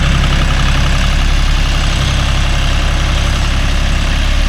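A John Deere 5045D 4WD tractor engine runs steadily while pulling a rotary cultivator through a coconut grove, a loud, dense, continuous diesel drone with no break or voice.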